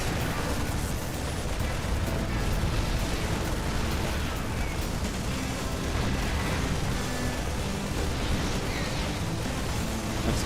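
Dense, continuous battle noise from a StarCraft 2 fight, with weapon fire and explosions blending into a loud, rumbling roar of impacts that never lets up.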